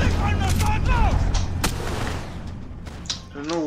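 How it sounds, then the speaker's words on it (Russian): Gunfire in the video game Max Payne 3, dense booming shots and thuds packed close together under a steady rumble, with a voice talking and exclaiming over the barrage. "из чего это меня стреляет?"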